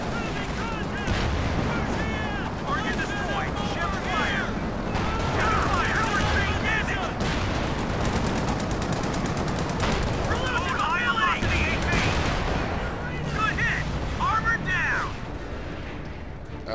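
Artillery and gunfire from the video game Company of Heroes 2 boom and rattle continuously in a dense battle soundscape, with a voice talking over it.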